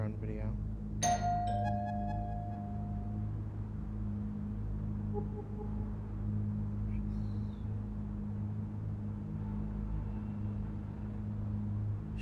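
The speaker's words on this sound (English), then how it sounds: "So should I knock on the door, ring the bell?" A doorbell rings once with a bright chime tone near the start, heard against steady low background rumble, with faint voices around it.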